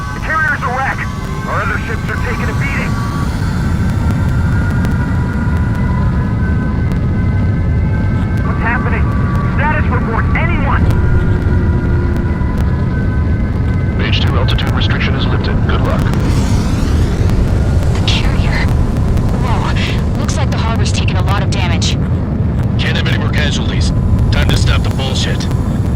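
Fighter jets take off in the Ace Combat 7 game with a loud, steady jet engine roar that swells and holds throughout. Radio chatter and other game sounds play over the roar.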